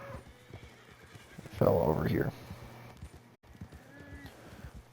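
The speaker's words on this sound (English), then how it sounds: "More wild horses over here for some reason." A wild horse in the game Red Dead Online gives one loud, close neigh in the middle, with faint hoofbeats around it and someone talking before and after.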